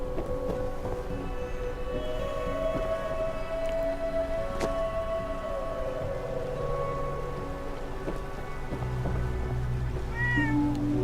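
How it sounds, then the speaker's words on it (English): In Fallout 4's Far Harbor DLC, cats at a fisherman's shack give a drawn-out meow and a few shorter mews over a steady bed of rain and ambient hum, moderately close, with no talk. "Of course, you can't have a fisherman's shack and house without cats"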